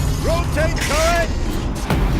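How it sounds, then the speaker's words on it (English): A turret's rotating mechanism in the video game Horizon Zero Dawn, a short burst of loud creaking, ratcheting machinery with rising squealing tones over a heavy low rumble. "rotate turret!"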